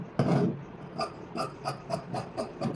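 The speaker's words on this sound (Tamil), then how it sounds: "இப்போ கிராஸ் பீஸ் கட் பண்ணுறோம்" Scissors cutting a cross piece of blouse fabric: a longer first rasping snip followed by a run of short, evenly spaced crunchy snips, close and fairly loud, with no voice.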